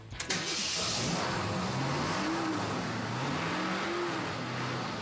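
A 1968 Shelby GT500 KR muscle car cranks to life with a sharp catch, then its V8 settles into a loud, steady roar with a few rising and falling revs, close by.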